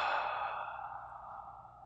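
A group of people takes a deep breath together during a guided counting exercise, a single long, airy exhale, close and fairly loud, slowly fading over about two seconds.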